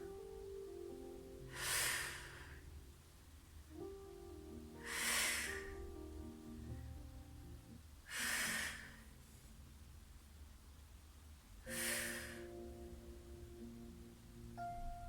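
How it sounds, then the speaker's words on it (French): Slow, deep breaths during a gentle seated chair exercise session, four broad airy exhalations spaced about every three to four seconds over soft background music, close and moderately loud, with no talking. "On expire, on expire. On inspire."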